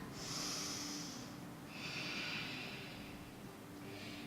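Slow, deep yoga breaths during a gentle flow practice in deep poses, drawn in and released audibly through the nose, with two long breaths and the start of a third, near and steady, no talking.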